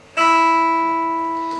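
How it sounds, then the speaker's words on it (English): An electric guitar's open high E string, played through the bridge pickup, is plucked once and rings out with a bright, steady sustained tone that slowly fades, alone and close. "that's the open high E string, no fretted notes."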